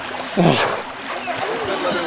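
Swimmers splash in the water at a summer camp, with a brief burst of splashing near the start amid outdoor ambience, while people talk throughout.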